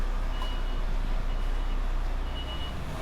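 A truck reverses slowly, its backing alarm beeping steadily against a loud, constant diesel engine rumble close by, with no voices.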